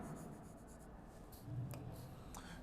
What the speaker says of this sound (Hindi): लिक्विड थोड़ा सही लिख देते हैं देखो